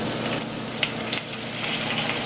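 Peppers dropped into hot oil in a pot for a Jamaican salt fish casserole give a steady, close broadband sizzle with a few faint pops and clinks, alone and with no talking.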